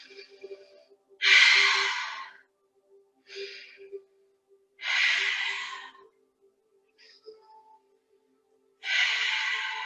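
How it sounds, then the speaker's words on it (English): Slow deep breaths during a relaxing yoga flow, three long airy exhales spaced several seconds apart with softer inhales between, close and clear over a faint steady hum. "Take 3 deep breaths."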